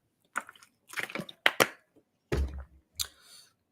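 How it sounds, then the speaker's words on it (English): Several close, quiet sips of water with a gulp or swallow, arriving in short separate bursts with brief pauses between them. "Water sip."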